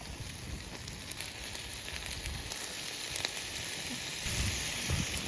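Chicken fries in oil over a methylated-spirits camping stove outdoors, a steady, dense sizzle and crackle holding at an even level throughout with no voices.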